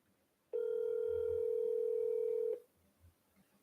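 A single steady telephone tone sounds for about two seconds on a call being placed from a real-estate office, then cuts off into quiet.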